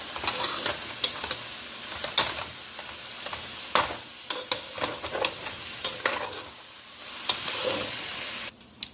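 Gluten free chicken pot pie filling is stirred in a pan, with a soft sizzle underneath and repeated clacking, scraping utensil strokes in an uneven rhythm, close up with no voices.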